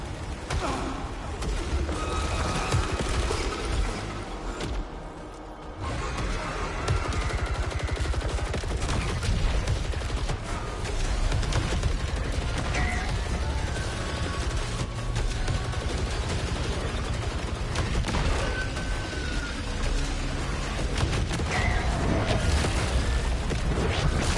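Shotgun fire rattles through a video game firefight, dense repeated blasts and impacts continuing almost without pause for over twenty seconds, loud and close amid other game effects.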